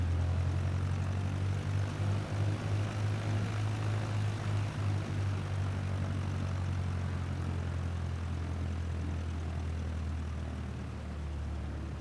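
Cessna 152 piston propeller engine idling steadily while taxiing at Wycombe Air Park in Microsoft Flight Simulator 2020, a continuous low droning hum with a faint throbbing pulse, loud and close throughout, easing slightly near the end.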